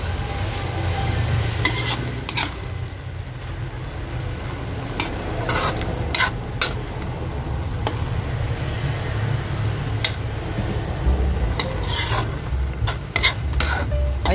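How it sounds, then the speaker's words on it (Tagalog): Banana heart and pumpkin stir fry being stirred in a pan, with steady sizzling and repeated scraping and clinking of a utensil against the pan, close and continuous throughout. "Halu-haluin lang natin."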